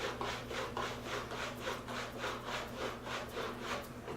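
A roller massage stick rolled back and forth over the hamstrings, giving a steady rhythmic rubbing, about eight even strokes, close and moderately loud with no talk.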